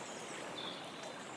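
River water running along a riverbank beside a small country path, a steady broadband rushing wash, moderately quiet and continuous, with a faint high chirp briefly over it.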